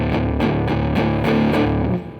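Distorted electric guitar with a dirty, creamy blues rock tone, playing rhythmic repeated chords with sharp pick attacks at a steady pulse, loud and alone.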